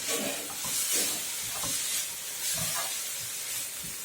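Chaya leaves cook in a pan while being stirred, giving a steady hiss and sizzle with low scraping strokes that repeat every second or so, close and fairly loud, with no speech.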